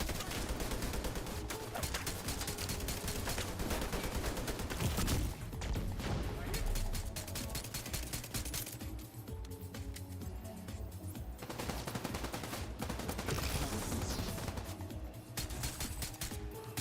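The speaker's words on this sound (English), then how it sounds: "You don't really need to shoot. I don't know why I am." Sustained automatic gunfire in the shooter game The Division 2, rapid and continuous bursts mixed with game sounds and music, loud throughout the stretch.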